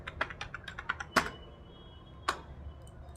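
Rapid clicks of computer keys being typed, a quick run of light taps followed by a couple of sharper, heavier keystrokes, close by in a quiet room.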